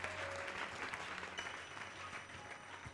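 A church congregation applauds the Lord during a fasting and prayer service in Togo, a steady wash of clapping from many hands, moderately distant and continuous.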